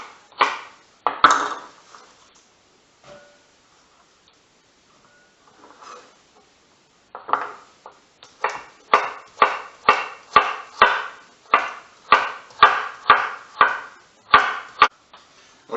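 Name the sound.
roughly chopping carrots, celery and onion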